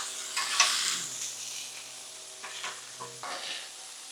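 Shrimp sizzling and being stirred and scraped on a flat-top griddle, a loud hiss at first that fades into softer sizzling broken by a few short scraping bursts.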